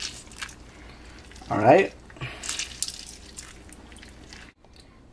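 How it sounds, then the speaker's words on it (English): A whole lemon squeezed by hand over raw chicken for stew, one brief wet squirting burst near the start of the second half, with faint drips and kitchen background and a short spoken word in the clip. "now we squeeze the entire lemon out"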